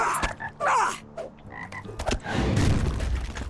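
Toads in the fantasy game Lord of the Rings Online croak in a series of loud, close, throaty calls, several overlapping groans and clicks over a few seconds, with rising ambient game noise behind them.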